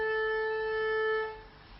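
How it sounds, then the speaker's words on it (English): An erhu's open A string, bowed across a snake-skin resonator, sounds as one steady sustained tone with bright overtones, held close and clear for over a second before fading out. "and an open string of A."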